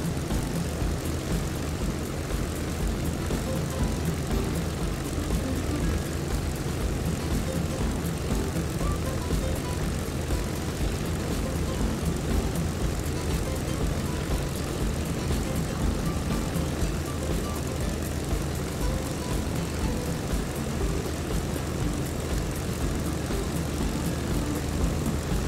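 A propeller aircraft engine in a flight simulator game drones steadily and loudly for the whole stretch, a dense continuous hum with no clear rise or fade as the plane passes overhead.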